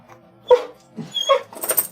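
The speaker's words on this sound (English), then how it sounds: "Okay, you have to pet the dog now" Luna the dog whimpers and yips in a few short, close, high cries spread over a couple of seconds, with quiet gaps between them.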